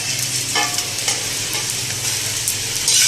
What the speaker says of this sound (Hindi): ये जो रह गई 4 गूंद, इसको भी मैं ना फ्राई कर लेती हूँ